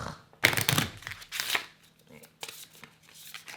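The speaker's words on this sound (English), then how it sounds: "I have to shuffle. I forgot to shuffle this." A deck of cards for the Hero Realms board game being shuffled at a table, a few quick riffling bursts up close with people chatting around it.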